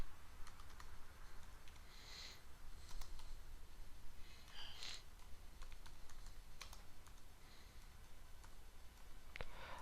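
A computer keyboard clicks through a burst of quick, light keystrokes in an uneven rhythm, close but fairly quiet, over a steady background hiss.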